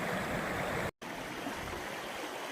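Water flows steadily in a normally dry stream at Trollers Ghyll, a constant close rushing babble that cuts out briefly and then resumes just as strongly.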